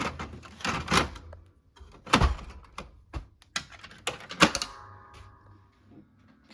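A toner cartridge slid and clicked into a Brother MFC-L2710 compact laser printer, making a series of close plastic thunks, scrapes and knocks, with a short mechanical whir near the end.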